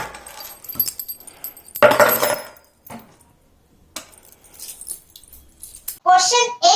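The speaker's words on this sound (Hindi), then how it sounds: "चाबी ले लेती हूँ।" Keys picked up and jangled at home before heading out for a walk, a few short bright metallic rattles in bursts separated by quiet gaps, close and fairly loud.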